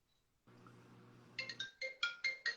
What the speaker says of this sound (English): My on-call phone keeps ringing like a mofo.